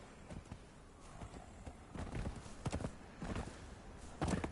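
Horse hooves clip-clop in Conan Exiles, a steady uneven trot of sharp knocks over a soft outdoor ambience, moderately close with a louder burst of steps near the end.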